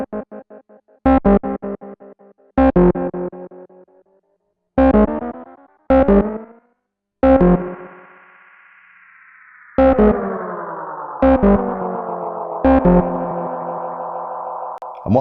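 Repeating delay echoes from a Boss Space Echo RE-202 tape-echo pedal: loud, distorted chords hit in short bursts and each trails into decaying repeats, with a long sustained smear of echoes in the middle and no talking.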